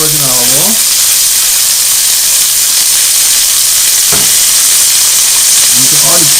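Chicken pieces fry in extra virgin olive oil for a chicken and broccoli stir-fry, making a loud, constant close hiss and sizzle, with brief speech near the start and end and a short knock midway.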